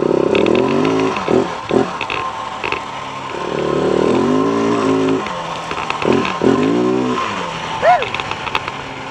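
KTM 690 motorcycle engine accelerating on a ride, rising and falling revs through several gear pulls, loud and close with wind and a short squeak near the end.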